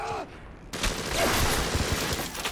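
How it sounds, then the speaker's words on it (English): Enemy machine gun bursts in the video game Bioshock, rapid repeated cracks after a short quiet moment, fairly close and loud, mixed with other game noise. "you can see how the fact that enemies are using machine guns now is becoming a problem"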